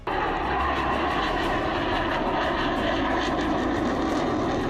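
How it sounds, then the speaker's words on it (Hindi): Fighter jets landing on an expressway airstrip give a continuous, loud, broadband roar that holds steady and close throughout with no pauses or voices. "हालांकि ये पहली बार नहीं है जब किसी एक्सप्रेसवे पर विमानों की ऐसी गर्जना हुई है।"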